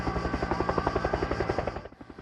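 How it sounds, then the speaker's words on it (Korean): A firefighting helicopter flies over the Vatican during a heatwave wildfire near Rome, its rotor thumping in a steady, rapid beat that stays loud and close before fading at the end. "바티칸 교황청 상공에는 소방 헬기가 쉴 새 없이 오갑니다."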